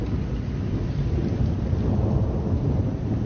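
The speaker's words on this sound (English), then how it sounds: "A heck of a storm coming up." Thunder from an approaching storm, a sustained low rumble that rolls steadily through the whole stretch with a hiss like rain underneath, fairly loud and with no talking.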